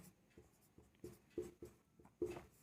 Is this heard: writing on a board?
yes